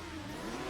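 A car engine revs hard during a Need for Speed Underground race, a steady mid-pitched engine whine accelerating through a short burst, loud and alone with no talk.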